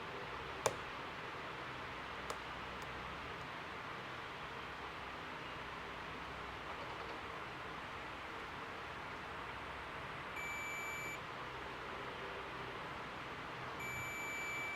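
A multimeter continuity tester sounds two short, high, steady beeps near the end while probing a phone capacitor, over a constant hiss with a couple of faint clicks earlier.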